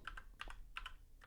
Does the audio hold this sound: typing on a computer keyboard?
yes